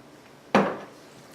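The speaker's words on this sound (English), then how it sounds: "Now we're going to dump our corn in." Corn kernels dumped into a bowl of corn fritter batter, a single sudden clattering thud that quickly fades, with no talk over it.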